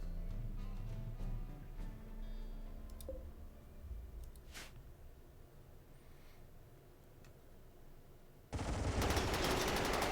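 Gunfire from a centipede mech in RimWorld, shooting at orks: scattered clicking shots over a low rumble, then a loud, dense burst of rapid fire near the end, with no talk.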